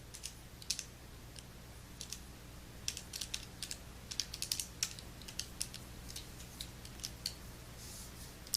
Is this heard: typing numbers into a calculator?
yes